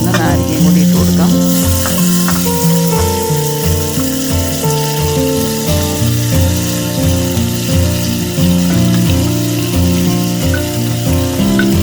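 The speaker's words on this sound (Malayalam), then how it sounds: "ഇനി ഇതിലേക്ക് അരിഞ്ഞു വെച്ചിരിക്കുന്ന നാരങ്ങയും കൂടി ഇട്ട് കൊടുക്കാം" Chopped lemons drop into a hot pan with turmeric and spices for an instant lemon pickle and are stirred in, giving a loud, steady sizzle and fry with scraping stirs running throughout.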